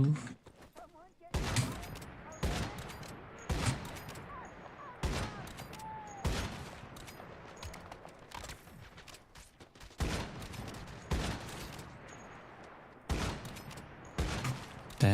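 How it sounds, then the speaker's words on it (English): Bursts of video-game gunfire hit the player, with loud volleys recurring every second or two across the whole stretch while a voice talks over them. "Who is shooting me?"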